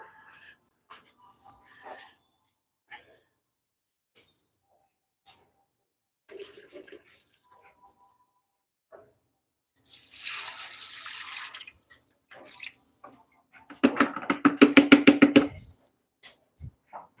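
In a pottery studio, a tap runs fresh water in two bursts, first a steady hiss and then a louder rushing, splashing fill into a container, mixed with scattered clinks and small handling sounds, close by and with no talking.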